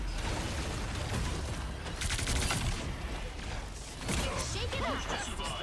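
Gunfire in a video game comes as rapid bursts of mechanical, rattling shots mixed with clanks and action noise, loud and dense, with a voice talking over it.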